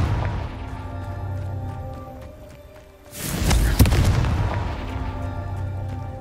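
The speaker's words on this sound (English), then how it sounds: "Confringo. Not so tricky after all, Merlin" The Confringo fire-blast spell from a Harry Potter video game goes off as one loud, booming explosion with a sharp crack, then fades over a sustained rumble that lingers after the hit.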